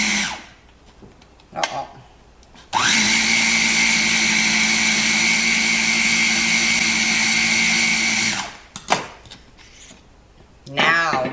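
Food processor whipping cream into homemade butter, a loud steady motor whir running about six seconds before cutting off, with brief clunks and quiet talk before and after.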